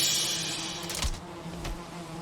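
Bees buzz in the modded Valheim video game, a steady dense insect drone that fills the background, with a couple of brief thumps breaking through and no speech over it.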